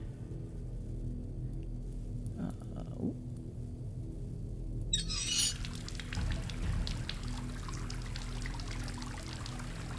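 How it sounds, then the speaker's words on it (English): Water flowing in the horror game Asylum: a brief faint trickle, then a steady, continuous pour starting midway and running on at moderate loudness. "Steady flow of clean water."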